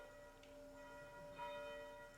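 A bell chimes to mark eight o'clock in Putney, its faint, sustained metallic ringing humming with lingering overtones, distant and alone with no voices.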